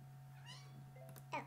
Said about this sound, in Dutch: Die hoorde denk ik zijn naam en toen ging hij mouwen